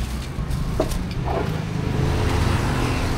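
A car used for a trip to a farm gives off a steady, loud low engine rumble, as from inside or right beside the vehicle, with a faint thump or two and no talk.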